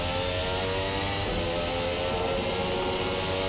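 A 2022 RSS Formula Hybrid race car in Assetto Corsa held at full throttle through a fast corner, its engine a loud, steady high-pitched drone that runs unbroken and alone from start to finish.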